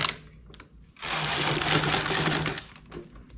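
Knitting machine slowly knitting wide ribbing: a carriage swept across with a loud rushing mechanical clatter lasting about a second and a half, framed by softer clicks and knocks, close up with no talk.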